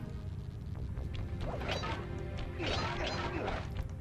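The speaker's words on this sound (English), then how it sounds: "Break me out of this force field by smashing its base" A force field's base gets smashed in the Sly Cooper and the Thievius Raccoonus video game, a run of crashing, whacking impacts over a steady mechanical game background with no talking.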